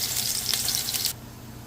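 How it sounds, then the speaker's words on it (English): Chopped onions hit hot oil in a pot, a loud crackling sizzle with bright spitting bursts for about a second before it drops to a quieter steady hiss. "So once your oil is heated, you're going to go in with your chopped onions."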